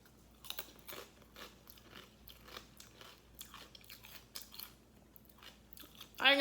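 Close, quiet crunching and chewing of an Indian chaat street snack with chunks of pineapple, with irregular bites and mouth sounds scattered over several seconds and a louder burst at the end.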